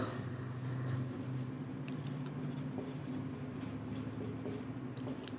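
Marker or chalk scratching steadily across a classroom board in a physics lesson on parallel plate capacitors, a continuous close scrape with short stroke accents over a low background hum.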